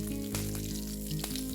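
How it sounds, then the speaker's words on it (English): Mustard seeds, curry leaves and asafoetida fry in hot ghee with a steady, close sizzle and crackle, and no voices over it. "Once the ghee is hot, I'm going to add some mustard seeds, curry leaves, and some asafoetida"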